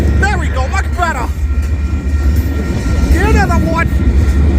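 Union Pacific freight train #7337, with three distributed power units at the rear, rumbles past steadily and fairly close in St. Paul, a continuous low roar with voices talking over it at moments.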